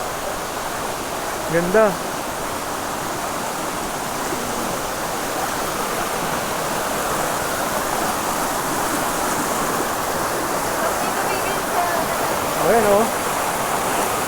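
A waterfall in Quezon rushes in a steady, broad roar that fills the whole stretch evenly, with a voice speaking a few brief words over it.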